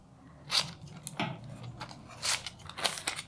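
Scissors snipping through parchment paper to cut small squares from leftover sheets for cake decorating, a series of close, crisp crunching cuts in an uneven rhythm.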